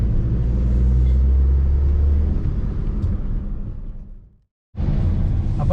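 A car drives off the highway onto Muzhappilangad beach in Kannur, a steady close rumble of engine and tyres that fades out and briefly cuts to silence, then returns just as loud.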